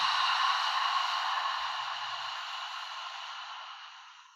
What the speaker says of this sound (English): imagine you're fogging a mirror as you open the mouth to exhale